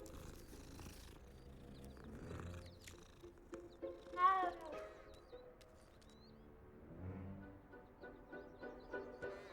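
A cat in the video game Hogwarts Legacy, a close, steady purr running throughout with a brief meow midway, under faint background game sound.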